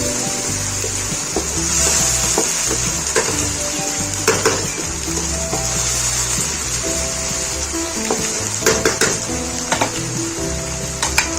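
Minced keema fries in a pan with whole spices such as cloves, giving a continuous loud sizzle while a spoon stirs and scrapes against the pot in irregular knocks and clatters, close up with no talking.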